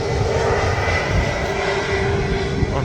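A Singapore Airlines Airbus A350 roars steadily and loudly through its takeoff roll at Manchester Airport, bound for Singapore. The broad, unbroken jet-engine noise is heard without any talking.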